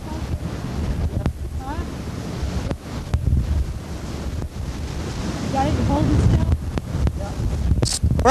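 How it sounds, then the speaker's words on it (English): High ocean surf an hour after high tide in a winter storm, a loud continuous roar of breaking waves buffeted by heavy wind noise, with voices now and then. "As you can see, the surf is really high now, and it's still an hour after high tide"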